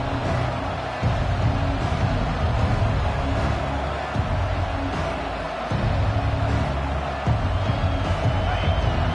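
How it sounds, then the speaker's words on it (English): A stadium crowd roars steadily at a college football game between Alabama and Miami. The dense, continuous din carries a commentator's voice over it. "This crowd trying to make life miserable for this offense."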